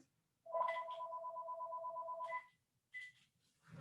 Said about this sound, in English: Oh my phone is ringing.